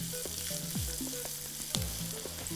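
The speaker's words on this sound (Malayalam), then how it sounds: "ഇതിനെ ഒരു നല്ലതായിട്ടൊന്ന് ഡീപ് ബ്രൗൺ ആവുന്നിടം വരെ ഒന്ന് മുരിക്കണം നല്ലതായിട്ട് വഴറ്റണേ" Dum chicken masala being sautéed in a pan until deep brown, a soft continuous sizzle broken by occasional spoon scrapes and clinks, close up with no voices.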